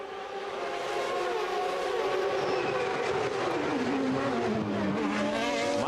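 Formula One cars at the 1994 Monaco Grand Prix, high-pitched engines screaming as they pass, with a sustained loud whine that sweeps down in pitch toward the end as a car goes by.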